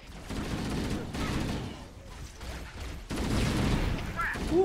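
Bursts of heavy gunfire from stationary mounted guns in Halo: Combat Evolved, dense rapid firing that comes in loud waves with short lulls between them, close and continuous.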